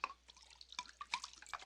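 Whiskey pours into a glass in short splashing and dripping bursts, close and fairly quiet, with no voices.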